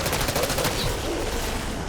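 Sentry turret in Black Ops 6 Zombies firing a rapid burst of automatic gunfire that fades into a dense, noisy game mix.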